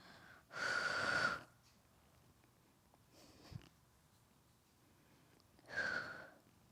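Heavy breaths during a beginner ab workout, two long forceful exhales a few seconds apart with a faint shorter breath between them, close and clear against near silence.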